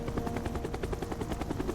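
Vortex, a Combaticon in the Transformers: Revenge of the Fallen video game, flies in helicopter mode with a fast, steady rotor thump over a continuous engine drone, close and unbroken with no voices.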